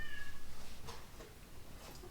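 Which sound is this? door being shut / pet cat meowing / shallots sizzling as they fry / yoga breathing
pet cat meowing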